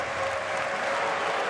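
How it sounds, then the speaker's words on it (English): A darts crowd applauds and cheers at the German Darts Grand Prix quarter final as a leg ends, a continuous, full wash of clapping from a large hall audience. "the crowd delighted that the leg is over"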